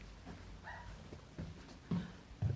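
A dog wanting to be let back inside, giving a few short, muffled barks and soft whimpers at a distance, growing a little stronger toward the end against a faint background.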